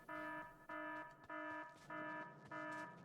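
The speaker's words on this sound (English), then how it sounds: "I know there's an alarm, but you have to remain calm." A Factorio video game alarm repeats five times as evenly spaced, sustained electronic tones, each about half a second long with short gaps between them. It sounds fairly faint, with no talking over it.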